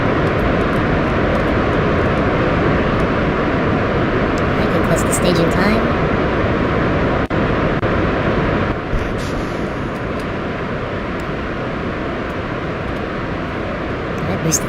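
A rocket engine roars at full thrust during a launch in Kerbal Space Program, a dense, continuous loud rumble filling the whole stretch with no letup.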